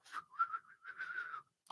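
Someone attempts to whistle with a faint, breathy wavering tone in a few short, uneven bursts that sound thin and unsteady.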